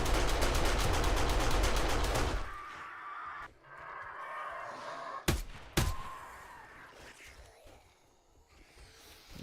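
An SMG turret in the game 7 Days to Die fires a loud, rapid burst of automatic gunfire that cuts off after two seconds, followed by a couple of sharp isolated shots and scattered impacts without speech.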